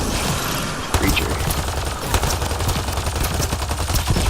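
Rapid gunfire in the video game Mass Effect Andromeda, bursts of shots crackling steadily over a busy combat soundscape with music, close and loud throughout.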